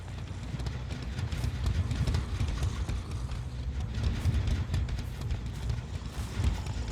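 Running footsteps in Dead by Daylight, a continuous pattern of low thudding steps under a rumbling game ambience, moderately loud with no speech.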